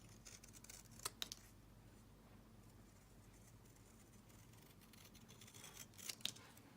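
Scissors snip a berry shape out of a poinsettia card, two brief crisp cutting clicks near the start and another pair near the end, close and quiet over a faint hum.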